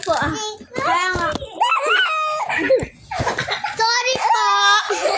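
Playful children shout, squeal and giggle loudly near the listener in Catmon, Santa Maria, Bulacan, in rapid overlapping bursts with short gaps between them, while a brief adult remark is heard.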